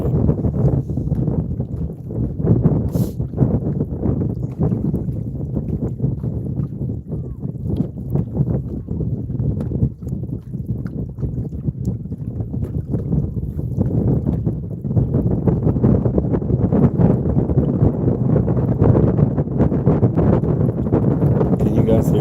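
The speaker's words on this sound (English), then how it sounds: "Can you guys hear that wind?" Wind blows across Lake Wilhelm during a fishing trip, making a steady, loud, low buffeting rumble that continues unbroken throughout.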